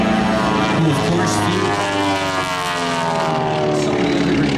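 A big twin-engine propeller airplane passing at an airshow, a loud, steady, throbbing drone of two piston engines with slowly shifting pitch as it flies by, filling the whole clip.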